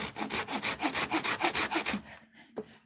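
Hand saw cutting through a chunk of resin-rich fatwood, a fast run of about a dozen rhythmic rasping strokes close up, ending as the piece comes free with a couple of light knocks.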